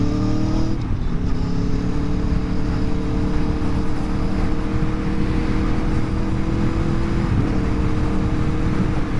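A 2020 Aprilia Tuono V4 1100 Factory carries its rider along country back roads, the V4 engine droning loud and close with steady wind rush and gentle shifts in pitch as it eases through bends.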